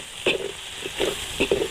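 Chili peppers frying in a hot pan, a steady hiss of sizzling with short crackling spurts and stirring bursts at irregular moments.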